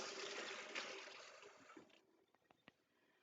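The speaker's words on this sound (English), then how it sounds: "I'm going to rinse this fork off really quick" A tap runs as a fork is rinsed in a kitchen, a steady, close hiss of water that cuts off after about two seconds, followed by a few small clinks and drips.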